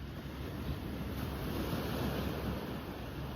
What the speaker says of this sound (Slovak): Ešte ti ukážem more v Malage.